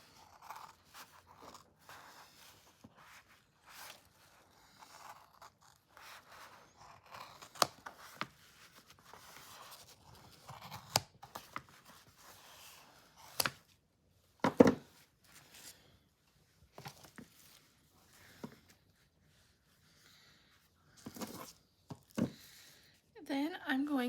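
Scattered crisp snips and crunches come in short irregular bursts as craft material is cut for a fake Swiss cake roll, faint and close, with quiet gaps between cuts.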